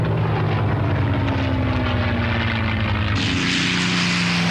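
A P-51 Mustang propeller fighter plane roars by close and loud, its steady engine drone shifting in pitch as it passes, with a brightening rush near the end.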